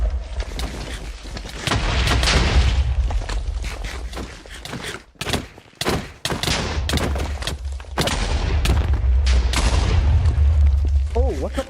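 Chaotic bomb explosions in a Java Minecraft Bedwars match, with loud repeated booms and bursts that crowd together, briefly drop out, then resume over game noise and voices talking.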